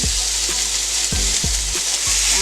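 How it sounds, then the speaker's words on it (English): Birria sizzles and fries loudly on a Still Made USA griddle, a dense close hiss of spitting fat broken by a few scraping stirs, with no talking. "I'm gonna put this on the Still Made USA griddle"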